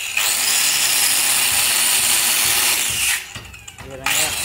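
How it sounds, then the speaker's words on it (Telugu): A 5-inch cutting machine saws through wood along a marked line for a wooden house window, giving a loud, sustained whining buzz that cuts out briefly near the end and then starts again. "ఈ విధంగా ఆ లైన్ వారంతా కటింగ్ మిషన్తో పోసుకోవాలి"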